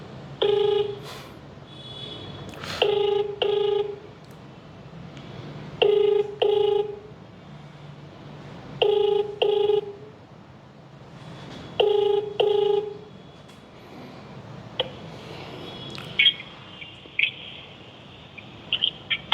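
A telephone rings back repeatedly while a prize winner is being called, with regular pairs of electronic trills separated by short gaps, clear and steady over a quiet background.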